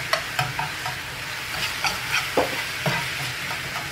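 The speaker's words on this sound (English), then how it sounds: "Yeah, that is scrambling up just like a freaking egg" Vegan egg scrambles in a frying pan under a steady sizzle, with repeated scraping and stirring strokes of a utensil at an uneven rhythm, close and fairly loud, with no talking.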